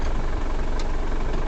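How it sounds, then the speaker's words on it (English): A Japanese mini truck engine labours in gear with the clutch let out, giving a steady, loud low drone with a dense rumble and no breaks, heard up close without any talk. "Now you can hear the engine straining a little bit"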